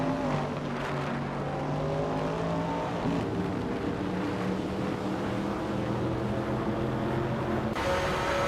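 Racing car engine of a 1970 Ferrari 712 in a racing video game, a continuous high-revving whine with steady tonal harmonics shifting pitch as gears change, loud and unbroken.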